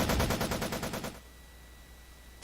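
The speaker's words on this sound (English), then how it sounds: "The fiddler crab's machine gun spat out flames." Machine gun fire from a fiddler crab robot in the visual novel Planetarian: a loud, rapid burst of about a dozen close, evenly spaced shots for a second, then cutting off into a low hum.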